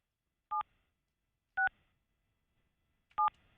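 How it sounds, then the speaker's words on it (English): Three short touch-tone dialing beeps sound about a second apart as someone calls a cell phone, each crisp and clear over near silence. "calling Jesse's cell phone"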